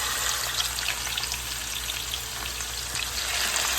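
Chicken pieces browning in grease in a pan give a steady, loud, close sizzle and crackle of frying fat, continuous with faint spatters and no voices.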